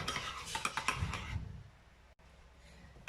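Crème fraîche and an egg being mixed in a bowl for savoury crêpes, with quick clinking and scraping strokes of a utensil against the dish for about a second and a half, then near silence.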